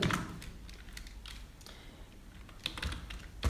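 Fingers tap out an OTP and captcha on a computer keyboard, a few quick clusters of light clicks separated by short pauses, close and fairly quiet with no talk.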